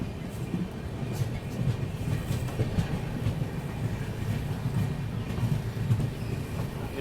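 A train crawls slowly over a stretch of track under maintenance, with soft rhythmic wheel clatter and a low rolling rumble heard from inside, steady and moderately faint.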